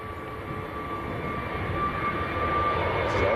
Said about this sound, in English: This is Jet 2 to Heraklion, A321neo.